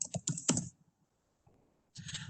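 Short bursts of typing on a computer keyboard, a quick cluster of close key clicks followed by a pause and then another run of keystrokes, fairly quiet with no talking.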